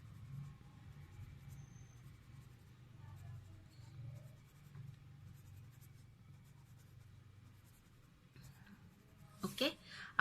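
A color sketch pen draws texture lines on paper, giving soft, faint scratching strokes under a low background hum, with a few quick louder scribbles at the end.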